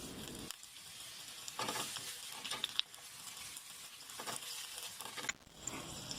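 Mushrooms sizzle steadily in a hot frying pan while being stirred, with scraping and clattering bursts from the utensil over a continuous crackling hiss; no voices.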